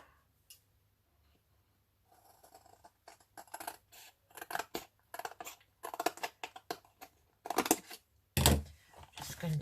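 Scissors snip around pieces of paper ephemera for an altered book: after a quiet start, a close, steady series of crisp cutting strokes builds, ending in a louder crunch of paper handling.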